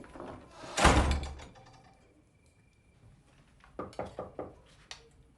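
A door is slammed shut in a French village house, giving one loud, close, heavy bang. A few lighter knocks on wood follow a few seconds later.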